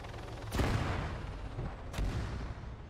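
Two heavy booms land about a second and a half apart in Arma Reforger Warlords, each a sharp broadband crack with a rumbling tail, set at moderate distance over a low ambient bed.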